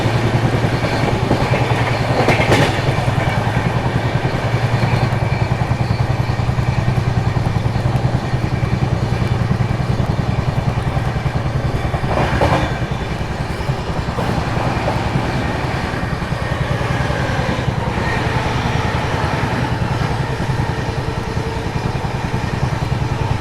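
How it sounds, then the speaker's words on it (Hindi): An express train runs at night, passing Balamau junction without stopping: a loud, continuous rumble with rhythmic wheel clatter and occasional sharper rattles and bursts, steady from start to finish with no talking. "अपनी ट्रेन जो है वो बालामऊ जंक्शन को स्किप करने वाली है"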